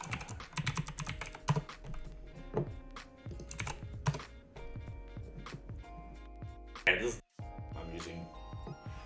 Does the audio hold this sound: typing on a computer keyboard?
yes